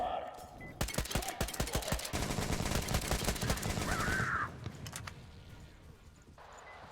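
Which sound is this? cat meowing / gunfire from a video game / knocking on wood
gunfire from a video game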